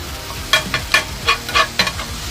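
A metal spatula chops cheesesteak meat on a sizzling griddle, about seven sharp, evenly spaced scraping clacks over a steady frying hiss.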